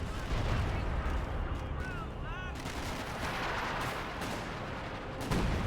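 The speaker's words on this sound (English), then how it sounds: "Artillery barrage here." Artillery barrage in the Company of Heroes 2 battle, a dense roar of shell blasts and gunfire layered with whistling incoming rounds, loud and continuous for several seconds.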